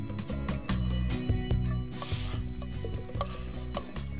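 Food sizzling and being stirred in a pan in the video game The Sims 4, a steady frying hiss with rhythmic clinks and scraping over a background of game music.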